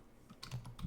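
A few soft keystrokes on a computer keyboard as a file name is typed, quiet and close, brief irregular taps with no talking.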